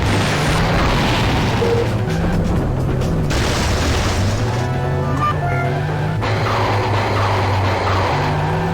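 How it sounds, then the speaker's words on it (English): Tank in the video game Auto Destruct, heard as a steady engine rumble and booming game effects running continuously under layered background sound with no speech. "That is a tank."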